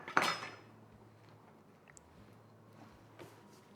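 A knife slices cored tomatoes into quarters during small-batch tomato processing: one sharp, close cut against the board at the start, then only faint, quiet scraping.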